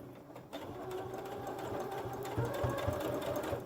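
A sewing machine runs steadily, back stitching the seam of a three-layer fabric face mask, its needle pulsing in a fast, even rhythm throughout, close and moderately loud with no talking.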